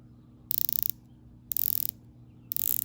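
A Rolex Sea-Dweller 126600 dive watch bezel being rotated, giving crisp, fast ratcheting clicks in three short bursts about a second apart, close and clear against near silence.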